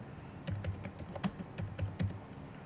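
Fingers tap a computer keyboard at close range in quick, uneven bursts of light plastic clicks with short pauses, and no voices over them.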